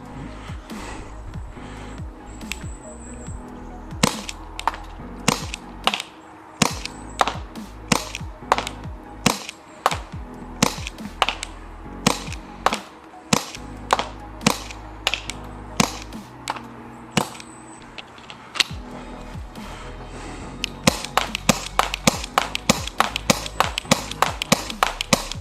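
A Tokyo Marui Taurus Curve .380 compact non-blowback airsoft gas pistol fires a long string of sharp, snappy shots at irregular intervals, some spaced apart, others quicker, ending in a rapid burst near the end.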